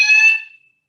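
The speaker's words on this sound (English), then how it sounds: "didn't realize it was a fire alarm practice" A fire alarm during a fire alarm practice, one short loud shrill electronic tone that cuts off and rings out quickly, heard alone.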